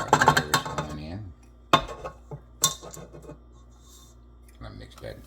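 Carrot cake batter of flour and grated carrots being stirred in a bowl, with scraping clinks of a utensil against the bowl in uneven bursts and a short spoken remark near the start.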